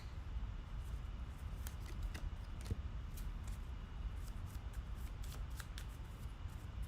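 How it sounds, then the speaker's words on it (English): Marvel Champions cards from the discard pile being shuffled by hand, a steady papery riffle with scattered crisp snaps over a constant low background hum. "Why am I shuffling the discard pile?"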